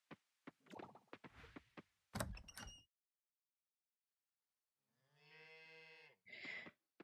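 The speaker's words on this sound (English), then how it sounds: "this is Newt, little brown cow" A little brown cow in the Coral Island farming game lets out one drawn-out, tonal moo, rich with harmonics, alone after a pause, followed by a short second call.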